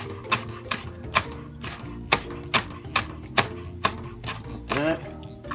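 Knife chopping chili pepper into small pieces on a board: steady, evenly spaced sharp chops, close and fairly loud, over a low kitchen background hum.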